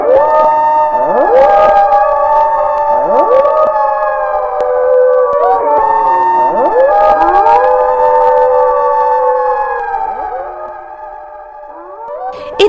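A jackal raises its muzzle to the sky and howls loudly, with several long rising and wavering howls that overlap in a sustained close chorus and no talk.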